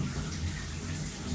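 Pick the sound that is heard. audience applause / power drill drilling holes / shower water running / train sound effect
shower water running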